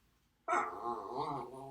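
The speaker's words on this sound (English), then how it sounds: "I've just got a small dog in here making sounds as if she wants me to take her somewhere" A small female dog whines and grumbles close by, a sustained, wavering, pleading sound that starts abruptly after a short silence and carries on without pause.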